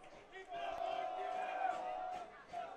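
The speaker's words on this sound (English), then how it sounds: "And the crowd continuing to get more and more into it by the second." Crowd at a Bethany College men's soccer match against Franciscan building noisy cheers and shouts ahead of a corner kick, a swelling mass of voices with individual whoops, with a commentator talking over it.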